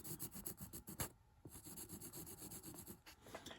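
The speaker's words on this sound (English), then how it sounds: "And I want to color this in for you." Pencil or marker coloring by hand inside a keyhole slot cut into a pine easel back, a quiet rhythmic scratching and rubbing in short strokes, close up and alone.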